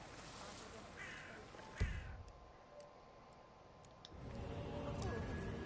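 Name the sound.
birds cawing, from the video game Hitman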